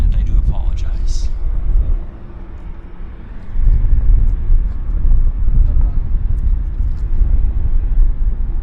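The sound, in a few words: Korean Airlines airliner taking off at Vancouver Airport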